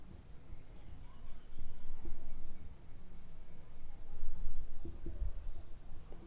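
Chalk or pen scratching across a board during a Class 10 trigonometry lesson, a steady run of close scraping strokes with brief pauses and a few taps, with no talking.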